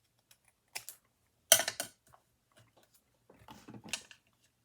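Scissors cutting paper pieces for an ephemera tag journal, a few brief, crisp snips and rustles separated by quiet gaps, close and fairly clear.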